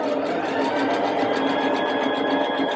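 A sewing machine runs steadily for a few seconds, stitching the edge of a Sadie pattern multiway crop top with a continuous close whirring hum and no speech.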